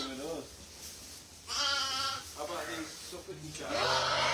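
Pet lambs in a farm pen bleat several times over a few seconds, fairly close and loud, with their calls overlapping one another and blending into the pen's general background noise.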